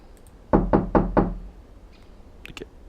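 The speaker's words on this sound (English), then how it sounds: "Someone's at the door?" Four firm knocks on a door sound in quick, even succession, loud and close, followed by a few faint clicks, with no one speaking.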